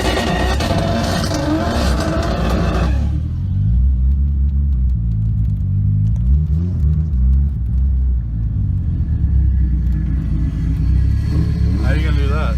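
A vehicle running on bias-ply tires gives a steady loud road rumble and engine drone throughout, with people talking over the noise.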